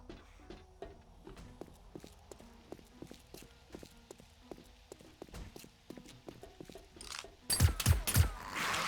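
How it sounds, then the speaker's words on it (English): Footsteps thump across a floor above in the survival game 7 Days to Die, a steady walking rhythm of soft knocks throughout, with a few louder, closer thuds and a burst of noise at the end. "I still hear footsteps up there"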